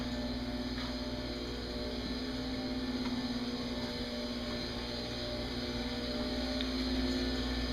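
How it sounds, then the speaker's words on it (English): A good-sized irrigation pump for a koi pond runs inside a boathouse, a steady, unchanging motor hum with a fixed tonal whine, continuous and moderately quiet with no talking. "pretty good sized pump picking up"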